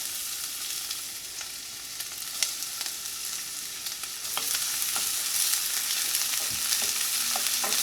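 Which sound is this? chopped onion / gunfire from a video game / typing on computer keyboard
chopped onion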